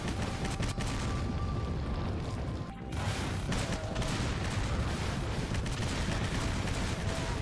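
Explosions and blasts from a video being watched, heard as a continuous dense roar of gunfire-like booms with a brief dip near the middle, loud and sustained throughout.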